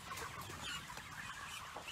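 Dense clucking from many chickens inside a 500-foot-long chicken house, a steady close flock chatter throughout.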